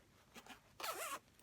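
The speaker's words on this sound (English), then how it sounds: "Should be able to zip pretty well." A zipper on a sewn vinyl pouch is pulled in a couple of quick, soft rasps, the longest lasting under half a second, close and quiet.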